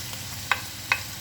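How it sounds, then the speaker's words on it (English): Broccoli, cabbage and sliced mushrooms sizzle softly in oil in a pan, a faint steady fry broken by a few sharp stirring scrapes. "Going to add in the broccoli, the cabbages, the sliced mushrooms"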